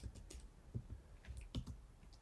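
Soft clicking of keys on a computer keyboard while a command is entered in a terminal, a handful of quiet, uneven taps close by.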